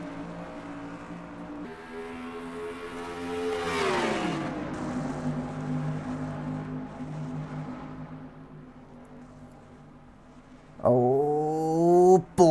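Race cars roaring back up to speed on a restart in the NASCAR Racing 2003 sim, engines whining and revving with pitch sweeps, a car passing near before a sharp loud burst of engine noise at the close.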